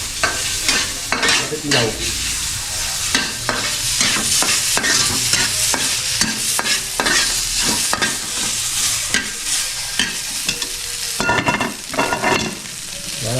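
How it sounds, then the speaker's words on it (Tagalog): Pork fat renders in a pan over medium heat with no oil added, sizzling steadily while a utensil scrapes and stirs in frequent strokes; a short spoken line comes in over the frying. "Pagmantikain natin yung taba."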